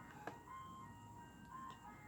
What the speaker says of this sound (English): there's an ice cream truck, in case you guys hear that